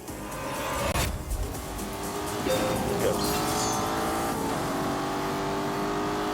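Aston Martin DBS cruising in GT (Grand Touring) mode in a racing video game, a smooth engine drone with occasional shifts and light tyre noise, steady and close throughout.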